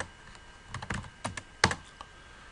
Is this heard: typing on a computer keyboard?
yes